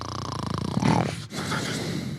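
A person snores close by in rough, rattling, raspy breaths, one long drawn intake followed by another, loud and alone with no talking.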